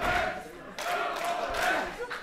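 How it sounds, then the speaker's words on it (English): A wrestling crowd at a PWÖ event chants in unison for a wrestler, rhythmic shouted syllables rising and repeating from a packed audience, loud and reverberant across the hall. "Tornado trying to get that energy back here, starting a chant for his partner."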